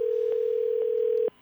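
Steady telephone ringback tone heard by the caller while a call goes through, one continuous held tone alone without voices, cutting off abruptly at the end.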